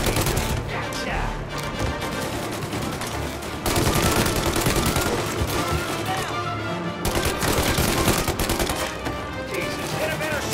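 Gunfire rattles through a shootout in Mafia Definitive Edition, with dense bursts of rapid shots and machine-gun fire coming in waves over roughly ten seconds, loud and close, mixed with shouting voices.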